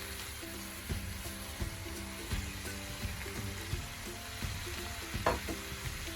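Okra (bhindi) frying in hot masala oil gives a steady sizzle, with repeated clinks and scrapes from stirring layered over the spattering, close up and with no talk.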